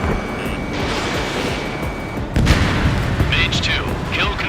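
Rapid fighter jet cannon fire from Ace Combat 7 rattles out as a continuous loud burst over a heavy engine roar, with a sharp jump in intensity partway through and bright high-pitched streaks of gunfire.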